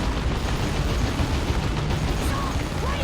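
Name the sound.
Capillary Tower landing in the video game Dawn of War 2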